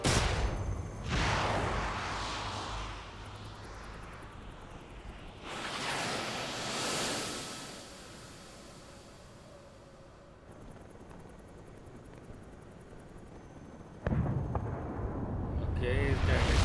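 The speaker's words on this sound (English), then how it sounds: "is that a heavy missile? So heavy." Massive explosions in Metal Gear Solid Delta: Snake Eater gameplay, with several deep roaring blasts and long rumbling decays separated by quieter stretches, a final loud burst building near the end.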